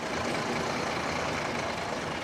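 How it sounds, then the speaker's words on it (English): A dense, steady roar of trucks and heavy machinery at a steel plant with blazing furnaces, loud and unbroken, with no distinct events. "The sound of machinery and blazing furnaces trucks now define Manize"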